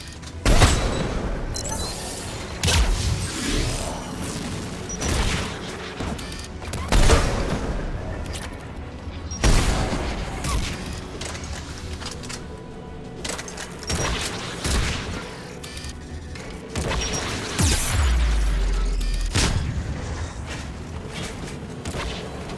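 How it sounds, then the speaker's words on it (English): Anti-aircraft guns in Mass Effect 3 fire in heavy booming bursts, repeated volleys with gaps between them over a long stretch, loud and close, with game effects around them. "AA guns ahead of us."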